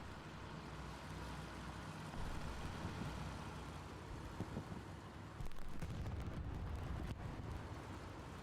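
Tank battle in the video game Hell Let Loose, with a steady low rumble of engines and distant gunfire, then a heavy, booming explosion around the middle and further dull blasts, loud and muffled, with no voices.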